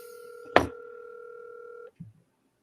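Telephone tones: a steady two-pitch tone holds for over a second, interrupted near its start by a sharp clunk, then cuts off and is followed by a brief soft thump before silence.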